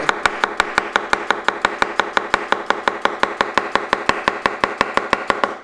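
Nakiri knife chopping food on a cutting board in a steady, fast rhythm of about thirty close, crisp knocks, each evenly spaced and loud, with no voices.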